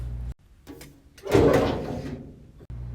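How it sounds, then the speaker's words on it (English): A bottom drawer slides open with a scraping rumble after a sharp click, preceded by light handling knocks, close and fairly loud with no talking. "come open the bottom drawer, pick whatever you want"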